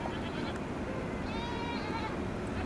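Goats on a brushy hillside give one drawn-out bleat at a moderate distance, over a steady wash of outdoor background noise.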